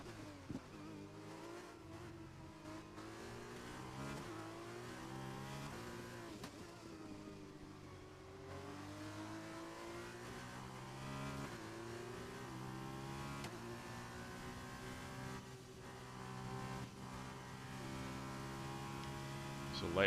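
Race cars in the F1 2021 video game, an F2 round at Portimao, accelerate hard out of the final corners, with steady, sustained engine tones climbing and shifting in pitch throughout.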